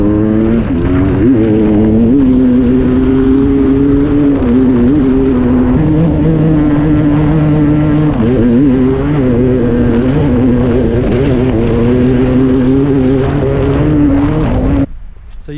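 Sherco enduro motorcycles from the 2025 range, 500s, 450 and 300 among them, run on a fast woodland loop with a loud, close engine drone whose pitch rises and falls as they rev, then cuts off abruptly near the end.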